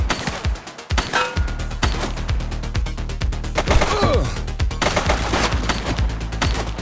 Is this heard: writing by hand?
no